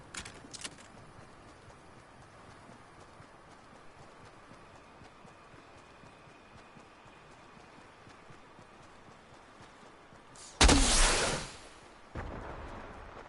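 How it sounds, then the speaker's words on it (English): A flare gun fires in Fortnite with a sudden loud whooshing burst that trails into a hissing tail, then a second softer hiss follows after a long stretch of quiet game ambience. "Is that a flare gun? Indeed a flare gun."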